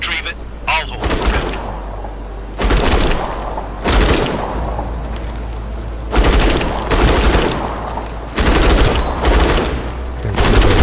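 Rapid automatic gunfire from a weapon in the sci-fi shooter Outpost: Infinity Siege, loud bursts repeating in several long volleys with short gaps, heavy booming low end, with voices talking between and under the shooting.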